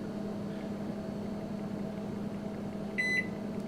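A Magic Chef HMM1611B2 microwave hums steadily while a short button beep sounds near the end, bright and close.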